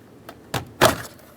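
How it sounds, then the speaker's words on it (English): Plastic rear door panel of a 2006-10 Ford Explorer being lifted off the door, giving a few short knocks and one louder hollow plastic thump, close up with no talking. "grab onto the door panel right underneath it and by the handle, and we're going to slowly lift it up and out and away from the vehicle"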